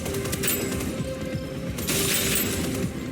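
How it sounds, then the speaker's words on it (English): Ice shatters in the video game Deadzone: Rogue, a bright crystalline crash that bursts out, fades, then flares again over constant gunfire-like rumble. "Shatter"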